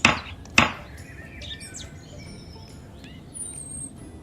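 A wooden mallet strikes a chisel cutting into timber for a lengthwise wood joint, two sharp knocks close together at the start, followed by faint scraping with birds chirping in the background.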